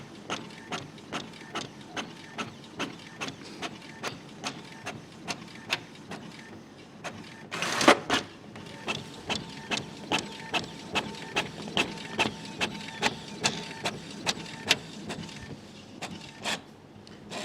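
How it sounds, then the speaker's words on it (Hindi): A Brother ink tank printer runs off five pages, its mechanism clicking and whirring in steady repeated pulses close by, with one louder burst of feed noise partway through. "पांचों पेज प्रिंट होकर के आ गया है, और हम देखें तो समय इस प्रिंटर ने लगाया है केवल 55 सेकेंड"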